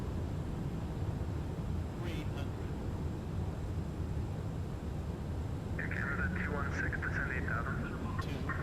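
An Air Canada Cargo 767F comes in to land in the X-Plane 12 flight simulator, with a steady broadband jet and wind roar throughout and a brief higher-pitched warning tone near the end.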